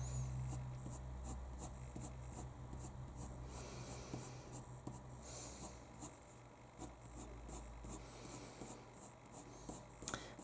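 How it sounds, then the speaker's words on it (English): Pencil scratches on paper while sketching an eye and eyebrows, a quick run of light, regular strokes close up, faint and steady with a low background hum. "So where they're thicker or where they look thicker, just put more pencil marks closer together."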